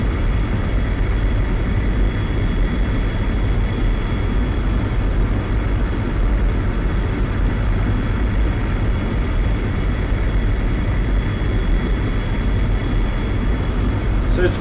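A MiG-21 jet in the DCS flight simulator drones with a steady, continuous low engine roar while in level cruise flight, loud and unchanging throughout.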